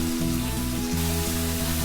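Steady sizzling of chopped onions frying in hot oil for vegetable kurma, loud and continuous, with a low hum underneath and no voices.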